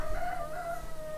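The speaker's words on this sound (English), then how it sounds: "it's always fun to talk over a rooster" A rooster crows in the background, one drawn-out call that holds steady for about a second, clear but not loud.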